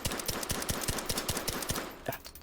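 Rapid run of suppressed Ruger Mark IV Whisper pistol shots with stock and integrated suppressor in the VR shooter H3VR, about a dozen sharp muted pops fired in quick even rhythm, close and fairly loud, no voices.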